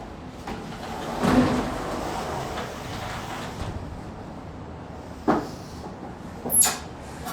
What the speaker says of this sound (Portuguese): eu vou só fechar aqui a porta, porque senão vai ficar fazendo um barulho